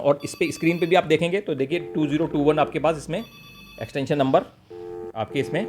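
A Matrix EON510 keyphone connected to a Matrix DSS32 console rings in brief electronic bursts, mostly buried under someone talking steadily in Hindi close by.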